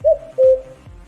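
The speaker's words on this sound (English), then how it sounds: "let me try my new cuckoo clock again" A cuckoo clock gives two quick, hollow cuckoo calls, loud and close, with a faint low hum underneath.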